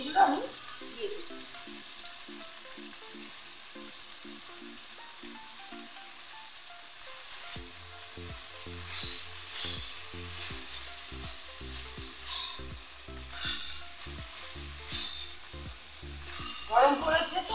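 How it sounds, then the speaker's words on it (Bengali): Boiled vegetables tipped into a pan of frying vegetables while cooking a bitter vegetable chachchari, giving a steady sizzle with stirring clatter and a busier, louder frying texture once they go in; no talk. "এই সবজিগুলো মোটামুটি ভাজা হয়ে গেছে, এবার বয়েল করা সবজিগুলো আমি দিয়ে দিচ্ছি"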